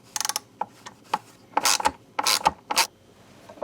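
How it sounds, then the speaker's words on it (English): A hand ratchet clicks in short bursts while turning T15 bolts on a Harley Road Glide saddlebag, close-up rapid pawl clatter broken by pauses and a few louder, longer turns. "I'm just going to go ahead and use the ratchet"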